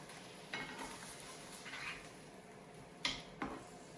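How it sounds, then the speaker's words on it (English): Pork chops frying in a pan, soft sizzle under scattered scrapes and clinks as a spatula flips them, with a sharper knock and scrape toward the end. "we're going to get a spatula and we're going to flip them over"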